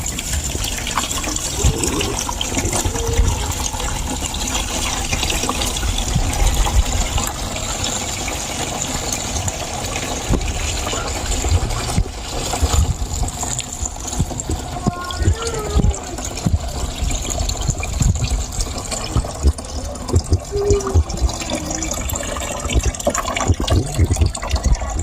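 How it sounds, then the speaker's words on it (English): Coconut milk being strained away from grated coconut husks in a Guyanese home while making coconut oil, a steady loud pouring and splashing of liquid running continuously, with people talking over it. "So we're trying to strain out the milk. We don't want the husks to get in next to the milk."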